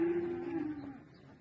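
A single cow lows on a farm in a drawn-out, fairly faint moo that slowly fades, heard alone without talking.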